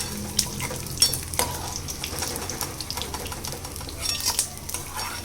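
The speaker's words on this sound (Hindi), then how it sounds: "घी जैसे ही गर्म होता है तो इसके बाद जो हमने गोंद लिया था वो गोंद को हम भून लेंगे" Edible gum (gond) fries in hot ghee in a pan, a continuous bright sizzle and crackle with the occasional clink and scrape of a stirring spoon against the metal, close and steady.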